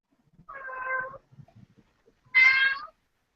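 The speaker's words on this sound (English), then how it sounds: "Who's got the cat?" A cat meows twice, close and fairly loud, the second call higher and sharper, with faint small noises in the gap between them.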